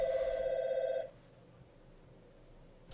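A telephone bell rings for about a second, loud and close, then stops, leaving quiet room tone.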